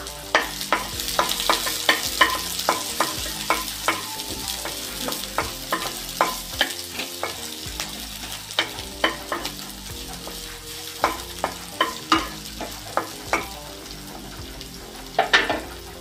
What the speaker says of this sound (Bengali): তেলটা গরম হয়ে গেছে, এবার আমি করলার দানাগুলো দিয়ে দিলাম।